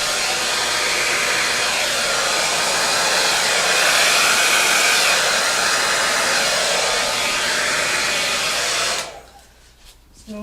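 A handheld blow dryer roars steadily and loudly at close range while blowing black paint into fresh colors on a pour-painting surface, then cuts off sharply near the end, leaving brief quiet.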